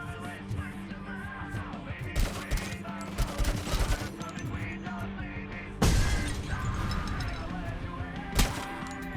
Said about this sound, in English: one grenade after another